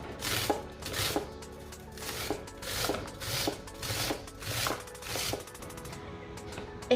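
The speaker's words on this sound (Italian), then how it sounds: "Inseriamo la grattugia all'interno di un altro recipiente e andiamo a grattugiarla sempre dai fori questi larghi" Raw onion grated on the large holes of a box grater set over a bowl: a steady series of rough rasping strokes, about ten in a row with a regular rhythm, close and fairly loud, with no voices.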